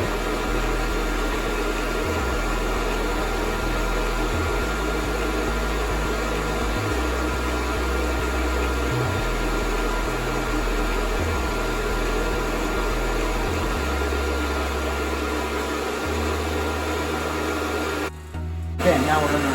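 A Fresh Roast SR800 coffee roaster fitted with a Razzo glass chamber runs with a loud, steady rushing whir of fan and heater. The hum shifts in pitch partway through and dips briefly near the end.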